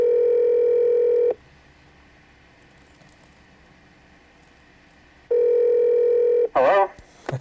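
Autopatch call on a ham radio line: a steady loud dial-type tone, a long quiet gap, then a second identical tone burst before a brief warbling ring-like sound and short clicks near the end.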